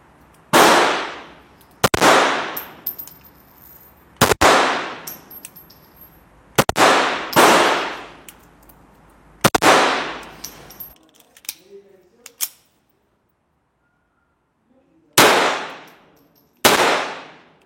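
A Star Model S compact pistol fires a string of loud, sharp shots at uneven intervals, each with a ringing decay, broken by a pause where a malfunction interrupts the firing before two more shots ring out.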